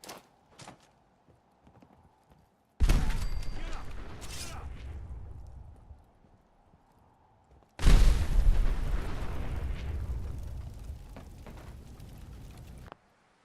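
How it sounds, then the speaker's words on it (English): Pipe bomb blasts in Fallout 4, heard as two loud, sudden booms a few seconds apart, each followed by a long, rumbling decay over quieter game ambience. "Pipe bomb."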